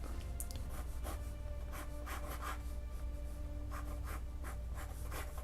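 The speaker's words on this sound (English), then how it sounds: "I'll show you on scrap paper. I'll just draw it on back of here, but so I'll probably come in and draw it." Pen sketching lines on scrap paper for an ink drawing, quick repeated scratchy strokes in short bursts, close and fairly quiet over a steady background hum.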